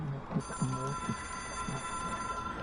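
A telephone rings inside the video game Control, a faint, repeated electronic trill of short bursts over a steady background hum.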